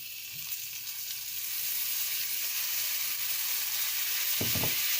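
Salmon fillets sizzle steadily in a hot pan as soy sauce goes in to deglaze, a broad hiss that swells slightly, with a brief low knock of the pan near the end.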